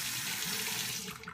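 Hot water runs steadily from a tap into a sink to warm a very old safety razor before shaving, a continuous close splashing hiss that eases off near the end.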